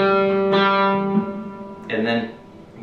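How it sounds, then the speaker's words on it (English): On a guitar, the fifth-fret G on the fourth string and the open G string ring together as a sustained tuning pair, struck once and then picked again with a brighter attack. "fifth fret of your guitar, and that's the note G. And then you're going to play the open string, the G."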